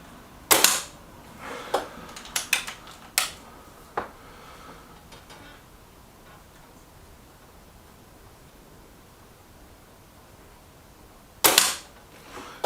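Reximex Zone air rifle firing pellets, with a sharp crack near the start and another near the end, a quick cluster of fainter clicks and taps in between, then a quiet stretch.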